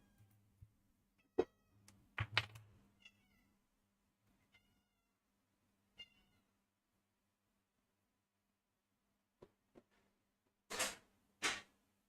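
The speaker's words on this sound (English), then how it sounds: "My cat is crying." A pet cat named Pumpkin meows several times in a quiet room, short scattered cries followed by two longer, louder meows near the end, alone with no talk.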